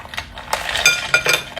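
Ice cubes dropped into a glass of cucumber drink made with songkit lime and a pinch of salt, giving several bright clinks and rattles close up, spaced irregularly over under two seconds.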